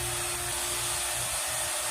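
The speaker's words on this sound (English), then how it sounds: "Now, I'm vacuuming it. As you can see, everything's connected. That's my pump over there, my vacuum pump." A vacuum pump in a home garage evacuating a car's A/C lines before an R-134a recharge, giving a steady, loud, even whine and hiss with a constant tone and no change over the short stretch.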